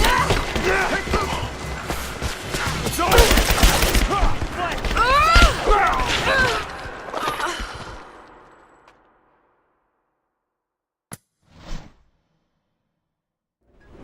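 Dense enemy gunfire in Rise of the Tomb Raider, a sustained barrage of rapid automatic shots with shouted battle calls mixed in, cutting off abruptly into near silence with a couple of isolated distant reports afterward.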